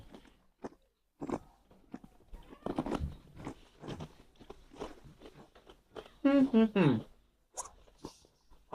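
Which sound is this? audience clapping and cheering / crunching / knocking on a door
crunching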